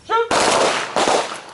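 Two loud, sharp handgun shots ring out close by during a combat shooting drill, roughly half a second apart, just after a brief shouted voice.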